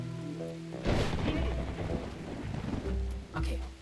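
Video game thunderstorm: a loud rumbling thunder crash rolls in over steady pouring rain, with further rumbles and rain noise continuing throughout.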